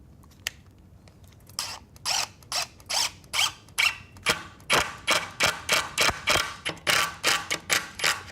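A screw is driven in to fix and lock a leather strap shelf, producing a rapid run of crisp, close clicking bursts in a steady rhythm, like a ratcheting driver turning repeatedly.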